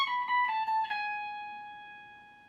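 Electric guitar notes played high up on the 21st fret of the high E string, a few quick picked repeats settling into one bright sustained tone that slowly decays, quiet and alone.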